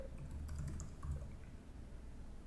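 Soft, busy tapping on a Swiss-layout computer keyboard, a short run of muffled keystrokes close by with a low background hum.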